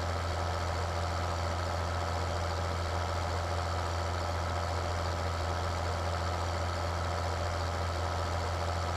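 Tractor engine in Farming Simulator 2013 labouring under a heavy load, a steady, dense, continuous drone with low rumble, unchanging and loud throughout.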